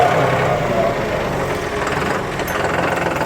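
A John Deere 5210 Gear Pro 4WD 50 hp tractor engine running during gear shifting, a loud, close, steady diesel rumble with a faint knocking throb.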